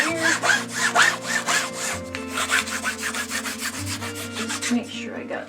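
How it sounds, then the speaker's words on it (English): A hand rubs a transfer flat to push out bubbles, making repeated close scraping strokes in a steady back-and-forth rhythm, fairly loud and with no talk. "Now I'm just rubbing it."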